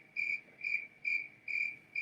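Crisp cricket chirps repeat in five regular, evenly spaced bursts, each a short shrill trill, close and clear against near silence.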